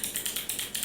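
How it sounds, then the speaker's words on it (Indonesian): Rapid plastic clicking from a keychain-sized touch keyboard toy, tapped close up in a steady, quick rhythm of crisp keypresses with no voices. "ASMR touch keyboard."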